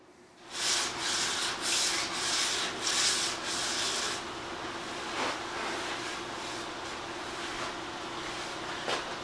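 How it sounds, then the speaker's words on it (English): A card scraper rasps across the interior of a turned wooden bowl in a series of short, close rubbing strokes, then settles into quieter, sparser scraping against a steady background hum. "I think I might use a scraper."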